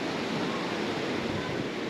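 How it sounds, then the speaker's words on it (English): Ocean waves rush onto a choppy beach near a bridge, a steady broad roar of surf with some wind, loud and continuous with no voices. "that's the ocean right there coming. This is right where it hits"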